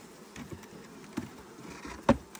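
Honeybees buzz in a hive box during a spring hive inspection, a steady low hum with soft knocks and rustles of frames over it, close and fairly quiet.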